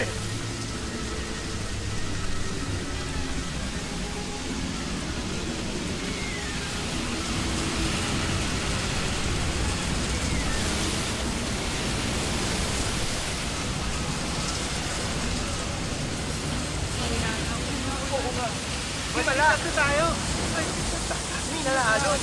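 A sea storm with big waves gives a dense, continuous roar of rushing water and wind, steady and loud throughout, with brief higher cries near the end.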